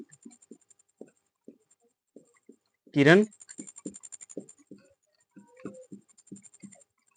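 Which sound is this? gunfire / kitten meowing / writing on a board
writing on a board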